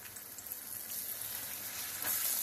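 Alaskan cod fillets fry in a hot pan with a steady, close sizzling hiss and crackle that holds even throughout and swells slightly louder near the end, with no voices.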